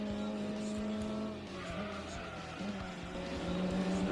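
Alfa Romeo super touring race cars in a racing video game roar down a straight, engine note holding high then dipping and climbing again as gears change, loud and continuous.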